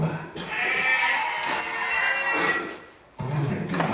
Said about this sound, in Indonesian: Domba.